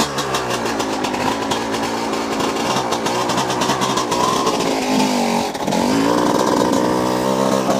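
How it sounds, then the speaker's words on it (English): A dirt bike engine runs loud and close throughout, with a steady buzzing drone that briefly dips and then climbs back up as the revs change. "So have fun hearing the dirt bike and not me."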